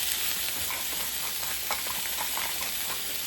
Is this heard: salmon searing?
yes